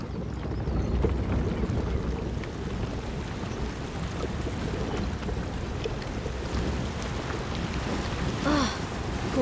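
A strong river current rushes past a giant wheel used for crushing wheat in the game A Plague Tale: Innocence, a constant heavy, rumbling roar that fills the scene.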